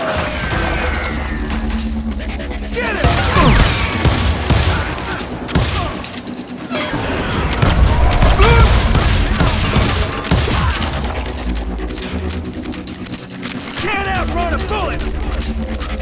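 Gunshots and fusillades from the Call of Juarez Gunslinger Western shooter game, sharp cracks and bursts repeating across a dense, loud battle mix with music and effects, and a voice shouting over the gunfire.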